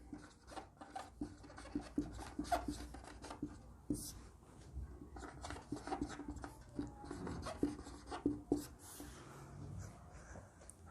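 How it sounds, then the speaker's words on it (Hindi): A black pen scratches across paper in short, quiet strokes with irregular rhythm, close and faint, with a voice speaking softly between the scribbles. "मैं इस ब्लैक पेन से लिख रहा हूँ"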